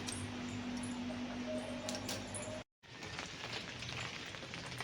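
Steady rain falling outdoors during a day of continuous downpour, a dense broadband hiss of drops on surfaces, close and even throughout apart from a brief cut to silence midway.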